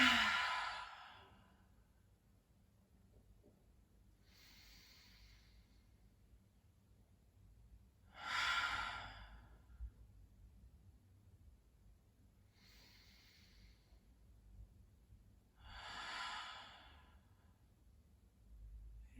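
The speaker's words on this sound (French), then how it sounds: "Vous inspirez à plein poumon et vous soufflez." Deep breaths drawn in and blown out during a floor exercise workout with a chair, repeated about five times at an even slow rhythm, each a soft breathy swell close by, separated by quiet pauses.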